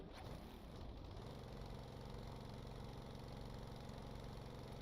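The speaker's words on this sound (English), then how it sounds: "Turn the mill on here." A model mining mill powers up with a brief rising whine, then settles into a steady, continuous motorized hum and rattle, close and unbroken, with no voices.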